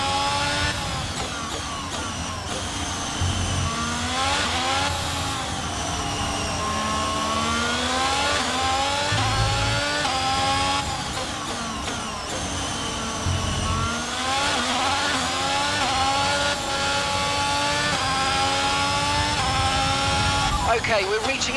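An F1 car engine in an F1 22 video game race screams through rising revs and gear shifts in repeated sweeps, loud and close, with radio speech over it.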